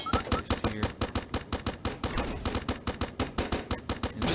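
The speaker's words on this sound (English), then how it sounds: "I particularly like the regular gun turret, just because it's just useful" A regular gun turret in the Starbound video game fires a rapid, steady stream of loud sharp shots, evenly spaced in a relentless machine-gun rhythm throughout.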